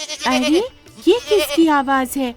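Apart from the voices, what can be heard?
goat bleating (crying), cartoon sound effect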